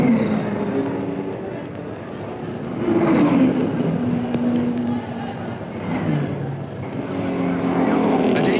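1955 Le Mans 24-hour race, with the Fangio-Moss Mercedes and Hawthorn-Bueb Jaguar among the cars: engines swell and fade as cars pass in waves, with a steady roar underneath and a narrator's voice over the top.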